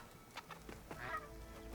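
A bird honks in a few brief, goose-like calls over a low ambient rumble in the video game Horizon Forbidden West, with no speech.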